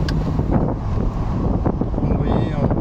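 The six-cylinder engine of a BMW 325i E30 cabriolet hums while driving, a steady low drone mixed with strong wind rush past the microphone, loud and close.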